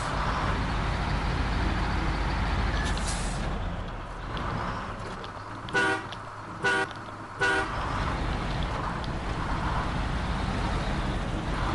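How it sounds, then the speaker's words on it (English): A GMC truck drifting in the SnowRunner video game, with a continuous rumbling engine and tire noise alongside three short, bright horn-like toots in quick succession partway through. "Doing a little drifting in the GMC."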